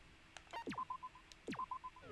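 Dialing tones from a giant cell phone in a video game: two runs of quick electronic keypad beeps, each a rising sweep followed by a steady row of short tones, clear and fairly near with no voices.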